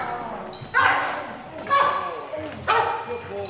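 Police dog barking in sharp bursts during bite training, three loud barks spaced about a second apart, close by, with handlers' voices in the background.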